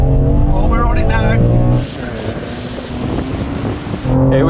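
A BMW M3 pulls hard in third gear, its engine note loud and rising under wind buffeting, with shouting from the occupants over the top.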